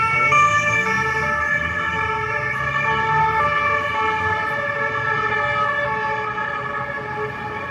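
Several emergency vehicle sirens wail steadily as the vehicles pass on a road, loud and close throughout, with traffic rumbling underneath.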